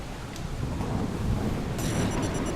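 Thunder from a lightning strike in the video game The Solus Project rolls as a loud, low, continuous rumble over steady rain and wind, with a brief electronic chime near the end.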